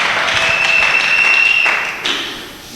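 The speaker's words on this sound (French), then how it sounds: "Est-ce qu'on peut acclamer pour eux?" A church congregation applauds a couple, a burst of clapping that swells for about two seconds and then fades, with a steady high electronic tone running through it.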